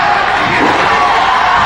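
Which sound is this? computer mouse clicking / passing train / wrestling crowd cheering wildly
wrestling crowd cheering wildly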